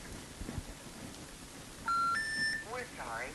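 A phone call lands on a disconnected number, producing the rising three-note intercept tone followed by more tones, after a stretch of faint background noise.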